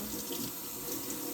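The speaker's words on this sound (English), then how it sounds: "Okay, I'm going to wash my celery." Tap water runs steadily into a kitchen sink as celery is washed under it, a continuous soft splashing hiss, close and fairly quiet with no talking.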